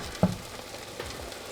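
Egg mixture frying in a pan, a soft continuous sizzle with one brief clack near the start, faint and steady.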